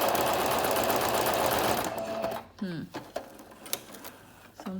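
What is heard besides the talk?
Singer Brilliance 6180 sewing machine sewing a buttonhole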